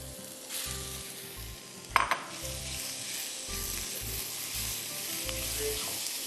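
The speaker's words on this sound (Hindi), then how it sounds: "चलें अब चिकन डाल देते हैं इसमें।" Chicken frying in a pot for African chicken peanut soup, a steady loud sizzle with a sharp clatter of a utensil partway through and occasional stirring, no voices.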